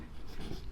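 Chalk or marker scratching across a classroom board during a geometry lesson, a short, quiet burst of writing strokes with faint room noise.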